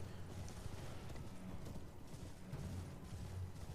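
Steady hoofbeats of a horse-like mount in the video game Elden Ring, a continuous rhythmic clip-clop running throughout at moderate level over low game ambience.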